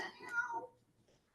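A cat sitting on a small boy's lap under a tree meows once, a brief, fairly clear call that fades away, followed by a short sharp onset at the very end.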